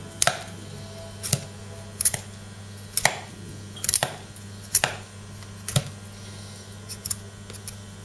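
A Tops Lite Trekker survival knife slices the skin off a butternut squash, giving about a dozen sharp, evenly spaced cutting clicks over a steady low background hum, close up with no talking.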